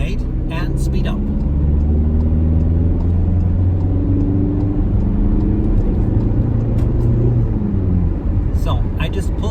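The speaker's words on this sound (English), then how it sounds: "We've got the third gear for acceleration now. I indicate and speed up." A car accelerates in third gear during a driving test in Germany, its engine rumbling and rising steadily in pitch under continuous nearby talk.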